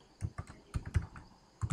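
Keys clack on a computer keyboard as lines are typed into Notepad, a handful of sharp, close taps in small irregular bursts with short pauses, quiet and alone.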